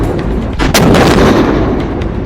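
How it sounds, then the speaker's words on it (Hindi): An anti-tank guided missile fires during an army exercise at high altitude in Sikkim. One loud, close blast and whoosh is followed by a sustained roaring rumble, with no voices. "सेना की anti tank guided missile border पर आग उगलती दिखाई दे रही है"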